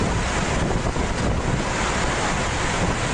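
River floodwater rushing over a bridge in Botad, a loud, steady broadband roar of churning water mixed with wind buffeting the microphone, continuous with no voices.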